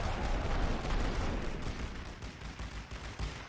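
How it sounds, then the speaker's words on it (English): Dense, continuous rumbling barrage of artillery fire and distant gunfire on a World War I battlefield at Ypres in The Great War: Western Front, loud and unbroken throughout. "They are starting to suppress me with artillery a little more"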